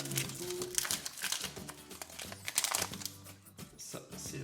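Pokemon Ultra Prism booster pack wrappers are torn open and unwrapped, producing irregular close crinkling and crumpling bursts over background music.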